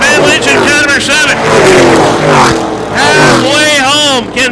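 Race cars circle a short track oval as a race commentator talks over them, loud engine roars swelling and fading as cars pass close by in repeated waves.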